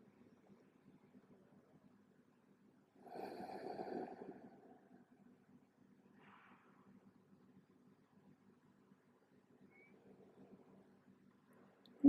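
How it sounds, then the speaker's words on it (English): A single deep breath during a quiet yoga session for easing headaches, a soft breathy rush lasting about a second and a half, close and gentle against near silence, with a faint low hum underneath. "A few big breaths."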